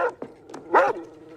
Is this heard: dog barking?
yes